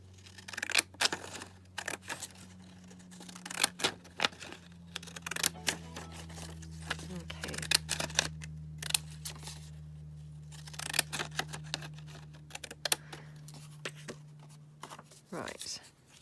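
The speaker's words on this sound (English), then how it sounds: "she had cut around them with her pinking shears" Pinking shears snip around handmade paper book tags at close range, sounding as a series of short, irregular crisp cuts. Steady low hum sits underneath, and a voice talks now and then.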